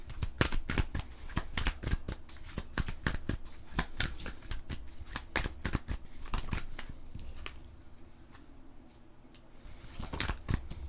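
Tarot cards being shuffled and drawn: a rapid run of crisp, close snapping flicks and slaps, clustered densely with brief pauses, easing for a moment before a final burst of shuffling.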